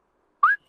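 A short rising whistle from a person calling for attention at a breakfast table, one clear sliding note followed by the start of a second, close and alone with no talking.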